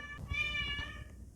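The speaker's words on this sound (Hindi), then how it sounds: "ये मेरी बिल्ली की आवाज़ है" A pet cat gives a single clear meow, drawn out and fairly close, with a faint voice underneath.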